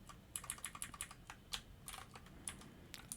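Quick irregular keystrokes clatter on a computer keyboard while JavaScript code for a currency converter app is written, close and clear with no talking.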